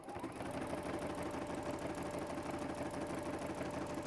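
A sewing machine stitches steadily around an edge, its needle mechanism running in a fast, even mechanical patter that stays constant throughout at a moderate level, close by and with nobody talking.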